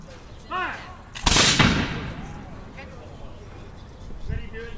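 Bunker Hill reenactors fire a musket volley: a single loud, sharp blast with a long ringing decay, while a crowd chatters and calls out before and after it.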